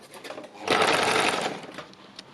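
A sewing machine stitches fabric for a quilted piece, running in a steady, fast, rattling whir close by for about a second. It then slows and stops, leaving a faint background hum.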